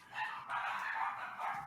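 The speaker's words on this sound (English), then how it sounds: "Yeah, they sound like it's 18 dogs." Several dogs bark continuously, muffled and somewhat distant, in a steady overlapping chorus lasting under two seconds.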